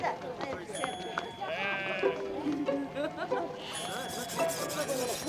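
Sheep bleating among a flock being caught and counted during shearing, several calls overlapping close by under a steady murmur of people talking and handling noise.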